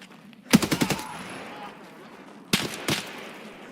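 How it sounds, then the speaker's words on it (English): Gunfire in the video game Escape from Tarkov: a rapid burst of five or six sharp shots, then two more separated cracks a couple of seconds later, loud and close against quiet background. "He is somewhere shooting at me."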